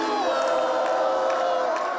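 A large crowd of supporters gathered outside a balcony in Buenos Aires cheers and shouts continuously, a dense roar of many voices that holds steady throughout and cuts off abruptly at the end.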